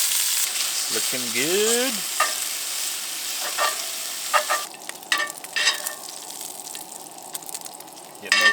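Sausage sizzling and frying in a pan at a solo truck-camping site in the dunes, a steady hiss with scraping and stirring clatter, while someone speaks briefly over it.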